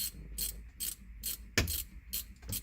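A ratchet wrench clicks away at the 10mm bolts on the shift lever handle of a 1994–2004 Ford Mustang GT, with short regular bursts of ratcheting separated by brief pauses and one louder knock partway through.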